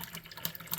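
A paintbrush being rinsed in a cup of rinse water while painting miniatures: a short, steady splashing and swishing of water, close and fairly quiet, with no talk.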